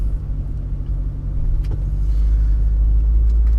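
A car drives along a road on the way to vote, a steady low engine and tyre rumble that grows slightly louder, with a few faint clicks and creaks from inside the cabin.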